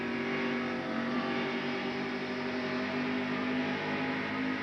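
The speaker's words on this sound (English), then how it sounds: "Let's listen to the places where Harry is on and off the accelerator for a few minutes here" Harry Gant's NASCAR race car at Pocono Raceway during the 1989 AC Spark Plug 500, its engine droning loud and steady with subtle swells as the throttle comes on and off, no voices over it.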